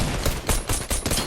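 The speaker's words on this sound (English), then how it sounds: "I start firing at this guy" Rapid bursts of video game gunfire in a sci-fi shooter, several loud, sharp volleys spaced a fraction of a second apart, filling the clip with no talk.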